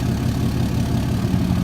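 A tractor engine idles in Farming Simulator 22, a steady low rumble that stays even and close throughout, with no talk over it.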